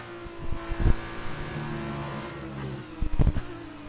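Formula 2 race car engine from the F2 2019 game on a qualifying lap with medium tyres, a steady mid-pitched drone with two sharp revving surges near the start and end, close and fairly loud, no talk.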